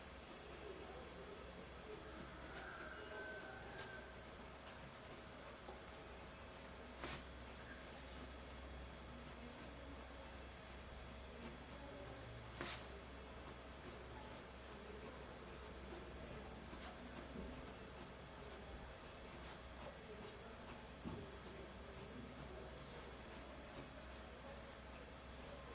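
A pointed drawing tool scratches faint lines across paper in different directions, a quiet, steady dry scratching heard close up and alone.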